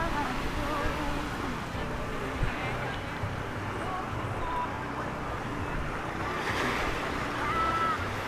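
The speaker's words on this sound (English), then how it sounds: "I'll show you guys this part of the ocean" Ocean waves wash along a beach at a St Lucia resort, a steady rushing surf mixed with wind noise, with speech present in the clip.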